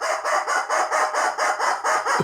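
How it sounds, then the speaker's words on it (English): A rubber chicken squawks in a quick rhythmic series of about nine loud, nasal honks, each short and evenly spaced, close up with no talking. "And the rubber chicken says..."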